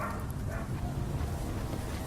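A trained police dog named Olaf barks repeatedly outdoors while sent to chase and detain a fleeing person, the barks dense and continuous amid heavy wind and handling noise.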